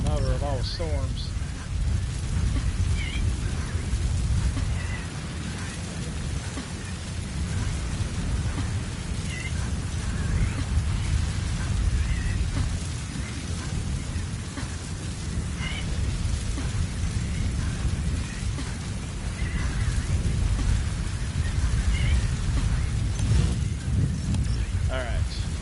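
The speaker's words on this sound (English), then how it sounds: "This must have been the mother of all storms." A heavy thunderstorm rages in Metal Gear Solid V, with steady pouring rain and deep rolling thunder rumbling throughout, while a voice speaks over it at times.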